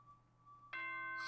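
A bright multi-tone announcement chime from the video game Danganronpa: Trigger Happy Havoc, a short, clear ringing tone that rises sharply in loudness near the end of a brief moment.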